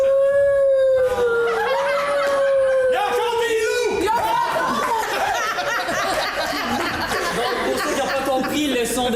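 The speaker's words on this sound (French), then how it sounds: "le son de baleine indique ainsi qu'on n'a plus le temps pour poursuivre le match" A long, sliding whale-call sound effect marks the end of an improv match, with a falling tone over the first few seconds, followed by loud crowd noise and laughter.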